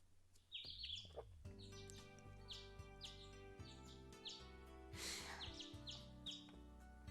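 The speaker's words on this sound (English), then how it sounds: "I wake gently to the sweet chirping of the sparrows." Sparrows chirping in the morning, bright repeated tweets scattered over a sustained musical background, clear and close with no talking.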